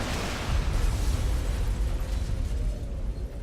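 Blazing Bullet attack explosions in the video game Phantom Dust make a dense, loud roar of blasts and bursts that runs continuously for several seconds and fades slightly at the end.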